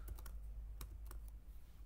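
Several keys, shift among them, pressed on a computer keyboard during a coding session: a handful of quiet, separate clicks spread unevenly over a low steady hum, with no voices.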